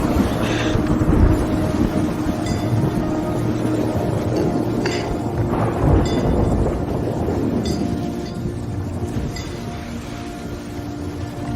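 A thunderstorm in Cyrodiil in Elder Scrolls Online: low, continuous rolling thunder with a few brighter crackling and clinking accents, loud and steady, without speech.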